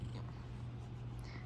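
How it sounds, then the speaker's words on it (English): A small young pet cat purring steadily and close up while being stroked, a continuous low rumbling vibration with no talk over it. "Let's pet the kitty."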